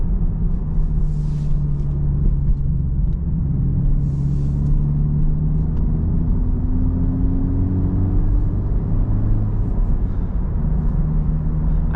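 Honda Civic Type R FL5 fitted with a modified exhaust cruising on the road, a steady low engine drone and rumble heard from inside the cabin with slight shifts in pitch as it moves, no talking.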